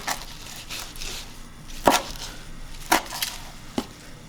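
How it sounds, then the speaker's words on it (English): A knife roughly chops a large pile of kale on a cutting board for sausage, kale and couscous soup, giving a few sharp, separated thwacks over a faint background, with no talking. "I just take the kale and just roughly chop everything up into"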